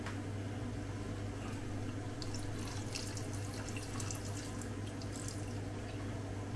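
Vinegar pours into a pot of igado, a steady liquid stream running alone for several seconds against a low kitchen hum, with no talk over it.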